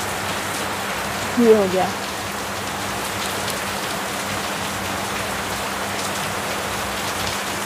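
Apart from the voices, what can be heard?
heavy rain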